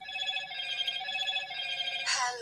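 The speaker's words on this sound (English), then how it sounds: "We can hear your phone." A phone rings through a live call, a sustained electronic ringing tone with a brighter burst near the end, moderately loud and close.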